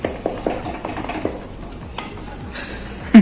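Pakora batter being mixed by hand by a cook in a bowl, a rapid wet stirring and slapping rhythm with soft squelches, close and steady, ending in a few sharper knocks.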